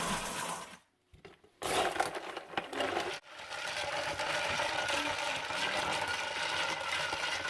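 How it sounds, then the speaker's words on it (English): Ice clatters and crunches into a jar of Mexican watermelon drink, agua de sandía, in loud rattling bursts after a brief pause, then settles into a steady rough grinding clatter. "I'm going to add lots and lots of ice"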